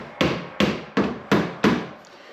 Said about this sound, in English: So we're going to just give it a little tap.